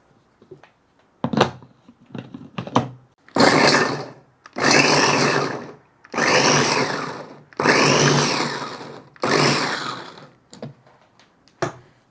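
A small electric chopper chopping four onion pieces, a few short test taps, then five loud, close motor bursts of a couple of seconds each with brief gaps, ending in quick pulses and no talk.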